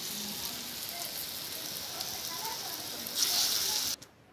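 Onion pakoras (peyaju) sizzle in hot oil, a soft steady crackle in the background that swells briefly louder near the end before cutting off.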